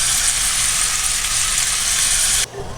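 Sliced onions frying in hot oil give a loud, dense, steady sizzle up close that cuts off abruptly near the end, leaving a faint background.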